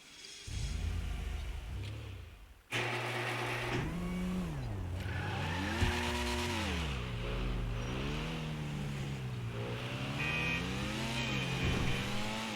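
A Pfister Comet SR sports car in GTA 5 drives off loudly, its engine revving up and down through repeated gear shifts in sweeping rising and falling whines over road noise.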